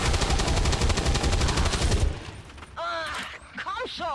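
Rapid, loud gunfire from XCOM 2 fills the first two seconds as a dense burst, then cuts off, leaving quieter game effects and a voice talking afterward.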